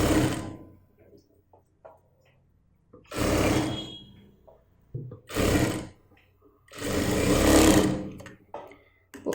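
Sewing machine stitching a sleeve at the armhole, running in several short separate bursts of varying length, close and loud with quiet pauses between them.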